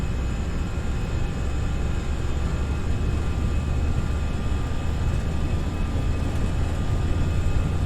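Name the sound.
FSLabs A319 engines at takeoff thrust, Prepar3D flight simulator video game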